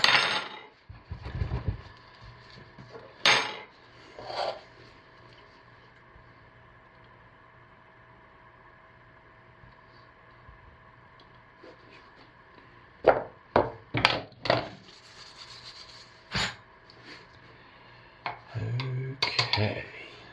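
A spoon is dragged and tapped through grapefruit and lemongrass cold process soap batter in a mold, giving scattered sharp clicks and scrapes in small clusters that are separated by long quiet stretches with a steady low hum underneath.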